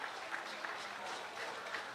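Audience clapping at a Tasmanian carnival in Burnie, a steady wash of applause from a crowd with a few sharper claps standing out, held evenly throughout.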